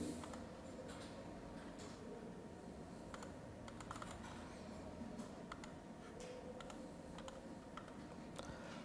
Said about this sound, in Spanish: presionamos en el teclado Insert